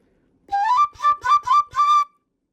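A breathy quena flute repeats the same D note five times in quick, evenly spaced articulations, clear and close, with no talking.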